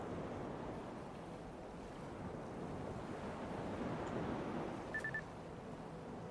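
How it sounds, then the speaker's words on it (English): A spacecraft in Kerbal Space Program 2 splashes down and rests in water, with a steady wash of surf and wind throughout, no single sharp splash standing out and no voices. "Splash down in water."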